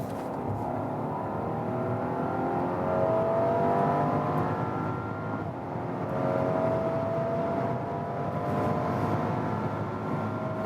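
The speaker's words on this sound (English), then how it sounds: "And one more acceleration for you when we are already at speed" A luxury SUV accelerates from 90 km/h with a steady engine drone that climbs gradually in pitch, surging twice amid wind and road noise from inside the cabin.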